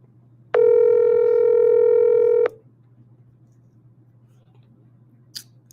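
A single long telephone dial tone sounds loud for about two seconds and then stops abruptly, followed by a quiet steady hum and a faint click near the end.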